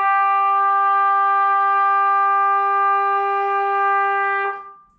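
A single sustained trumpet note A, fingered with the first and second valves, held steady and clear for about four and a half seconds before cutting off, played alone in a fifth-grade lesson.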